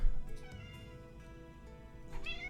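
A cat meowing close by, a drawn-out tonal cry with wavering pitch over a steady background hum, rising again briefly near the end.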